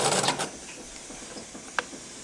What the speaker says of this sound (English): you're going to take a couple stitches and back tack